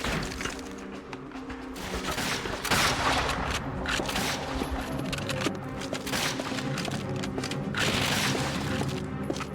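Dense, continuous gunfire and explosions from the Call of Duty: Finest Hour video game, with rapid shots and heavy blasts layered over background game music and effects.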